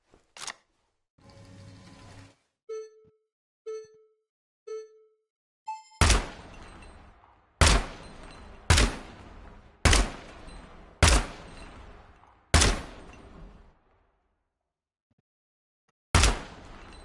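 Gunfire in the Gunsmith Simulator game, several sharp loud single shots spaced about a second or two apart, preceded by softer mechanical clicks and handling noises, with a quiet gap before one final shot.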